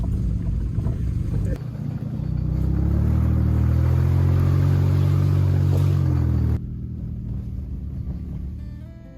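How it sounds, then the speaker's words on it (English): A Jeep Liberty drives over rough wilderness roads: a loud, steady low engine rumble with wind buffeting, swelling heavier through the middle and then easing off abruptly near the end. "This should be a commercial for Jeep Liberties, because I don't think this vehicle was ever designed to go on some of the roads we're on."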